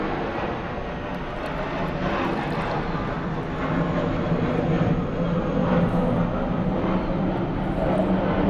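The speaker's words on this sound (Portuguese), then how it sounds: "Avião. Não vou competir com ele" A single airplane drones steadily overhead, a loud, continuous engine roar that grows slightly louder midway and holds with no break, with no voices over it.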